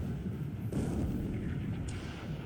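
Heavy naval gunfire from a battleship formation shelling an enemy cargo ship in the World War II strategy game War in the Pacific: a sustained rumbling barrage with sharper bursts layered on top, loud and continuous, with no voices.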